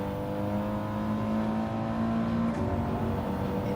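Race car engine in Gran Turismo 7 lobby racing, a steady droning whine with a sustained tonal hum as the car slides, continuous and moderately loud with no talk.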